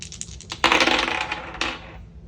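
Dice clatter and tumble onto a hard surface in a few quick bursts, rattling briefly then settling, close and fairly loud with no talk.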